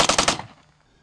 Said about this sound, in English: rapidly fire the gun without having to pull the trigger repeatedly